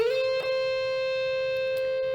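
A single distorted electric guitar note on the B string, near the upper frets, rings out loud and sustained for about two seconds after a quick slide up, with no voices.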